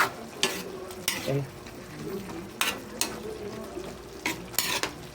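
Chicken adobo with coconut milk is stirred in a pan, a utensil scraping and clinking against the metal in irregular bursts over a soft sizzle, with a brief word spoken.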